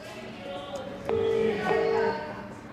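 A telephone call being placed from a hospital kitchen to a fruit supplier: a quiet ringback tone sounds twice, each a steady pitched note lasting under a second, over faint room background.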